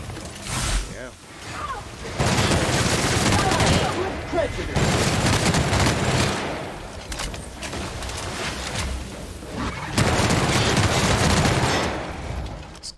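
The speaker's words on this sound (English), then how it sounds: "This gun is so nice. It's got such a fast repeat rate on it." Rapid automatic gunfire from a fast-firing weapon in The Outer Worlds, loud sustained bursts with brief pauses between them, mixed with game effects and occasional talk.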